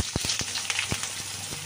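Potato pieces go into hot oil tempered with cumin seeds and bay leaf, giving a loud bright sizzle broken by several sharp spatter pops and clicks, with no talk.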